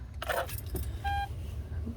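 A Lexus RX 400h hybrid being switched on with its key: a brief jangle of keys and clicks, then a short electronic chime tone, with quiet cabin hum and no engine start.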